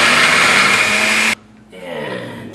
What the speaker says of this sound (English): into the blender go some shallots. Now I'm going to beat these down because I need the liquid from them